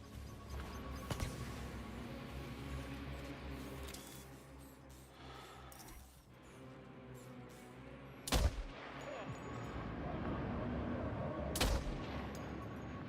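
Two sharp, loud sniper rifle shots ring out several seconds apart in the video game Death Stranding 2, each a sudden crack over a steady bed of game ambience and music.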